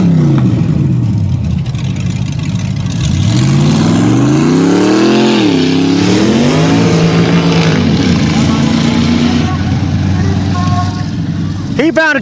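Dodge mud truck engine at a mudbog revving loudly and continuously, pitch climbing and dropping through several surges with a steady roar underneath, while an announcer talks over it.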